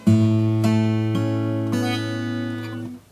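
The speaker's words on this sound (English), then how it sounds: "go ahead and fret that 7th fret there instead of a harmonic" A single guitar note fretted at the seventh fret rings out clearly and sustains, with a few faint string touches as it slowly fades, close and alone.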